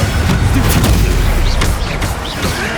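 Loud, booming blasts from a Confringo fire spell in Hogwarts Legacy roll out in dense succession, with rumbling low-end impacts and crackling bursts layered over combat noise.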